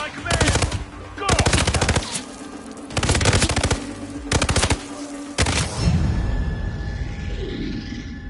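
Bursts of automatic gunfire in the Hitman video game, several rapid rattling volleys in separate clusters, loud and close, fading into an echoing tail at the end.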